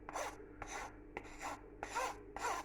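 Metal spoon rasping elderberry sauce off the underside of a sieve, five distinct scrapes in a steady rhythm, close and clear with nothing else heard.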